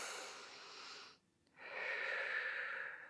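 Deep, slow breathing during a Pilates stretch: a long, airy exhale, a brief silent pause, then a fuller, louder breath, close and alone with no talk.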